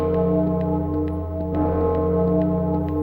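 Clock tower bells chiming inside the Clock Tower video game, a steady resonant tolling with a continuous ringing sustain and faint repeated strikes, loud and unaccompanied by speech.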